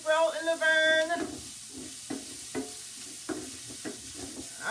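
Onions and meat for a tagine frying in a pan, a steady sizzle with a few sharp stirring scrapes spaced through it, close and moderately loud after a brief tonal sound at the start.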